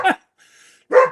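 A puppy barks twice, short sharp yaps close by, separated by a pause of under a second with faint background hum between.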